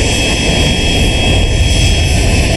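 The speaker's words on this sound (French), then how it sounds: "18h05, l'avion de Nana Akufo-Addo atterrit à l'aéroport Léopold Senghor" The jet carrying Ghana's president Nana Akufo-Addo lands at Léopold Senghor airport in Dakar, a loud, continuous engine roar with a steady high whine layered over deep rumble and no voices.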